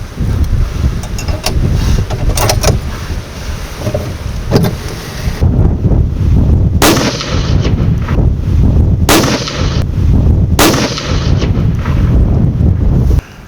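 Three booming .338 Lapua rifle shots ring out at intervals at an outdoor range, each a sharp loud crack over constant low wind rumble buffeting the microphone.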